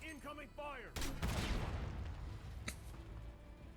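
Loud bursts of gunfire and explosive booms in the video game Call of Duty: Black Ops 7 follow a short synthetic chirping effect, with a sharp crack and rumbling echo trailing off near the end.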